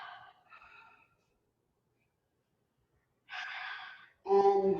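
Deep, slow breaths are drawn and released during a yoga session, with a soft airy exhale, a long silent pause, then a strong breathy inhale and a louder sighing release.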